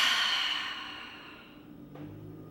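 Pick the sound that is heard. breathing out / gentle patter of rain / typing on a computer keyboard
breathing out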